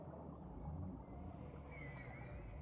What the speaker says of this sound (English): The complicated low-frequency singing of some whales can be detected at a distance of more than 500 miles.